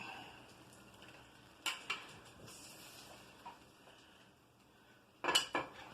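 A slotted spoon knocks and scrapes inside a stock pot of homemade marinara, giving a few sharp metallic clinks at separate moments and a short burst of clatter near the end, over a quiet background.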